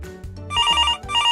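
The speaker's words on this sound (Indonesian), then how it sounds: "ketika telepon kita berbunyi" A telephone rings with a bright, repeating electronic trill in two short bursts, loud and close, with no speech.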